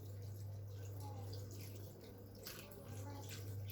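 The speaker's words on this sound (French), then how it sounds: "je viens mettre mon fond de volaille" Chicken stock poured into a cassoulet pot with veal kidneys, garlic and herbs, a steady running liquid stream with light dripping, fairly faint against a constant background hum.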